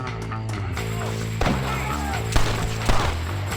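A shootout in Red Dead Redemption, set in Mexico, crackles with scattered gunshots, several sharp cracks a second or so apart over a dense, loud bed of game music and ambience.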